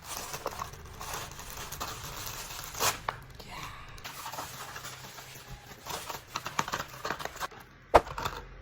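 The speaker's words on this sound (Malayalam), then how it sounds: "അപ്പോൾ നമുക്കൊന്ന് അൺബോക്സ് ചെയ്ത് നോക്കാം" A Hot Wheels package is opened up close, with scattered crinkling, tearing and tapping of plastic and cardboard, plus a sharp click near the end.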